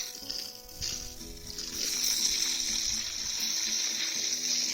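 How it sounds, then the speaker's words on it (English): Water sloshing and splashing in a tub as a lemon tree's roots are washed, a steady close wet rush building after the first moments. "And I'm going to wash all the root out as well"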